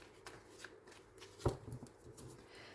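Oracle cards shuffled and cut by hand in a quiet room: soft riffling and rustling with one sharp slap of the deck near the middle, close and fairly faint.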